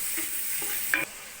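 Shrimp stirred as they brown in oil in a pan, a soft scrape of the utensil over a steady frying hiss, close and moderately loud, with one brief sharper clink near the end.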